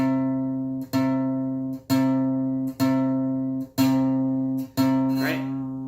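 A bass guitar plays the note C at the 8th fret of the 4th string, plucked six times in a steady rhythm about a second apart. Each note rings out clear and sustained, alone with no talking.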